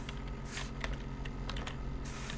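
Rapid typing on a computer keyboard produces a quick, uneven run of close, crisp key clicks over a low background hum.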